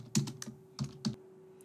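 Keys clack on a computer keyboard as a password is typed, a handful of close, crisp taps in two quick clusters over a faint steady hum.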